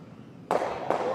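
Curling stones in a mixed doubles takeout shot, two sharp hard cracks about 0.4 seconds apart, close and loud against a quiet arena background.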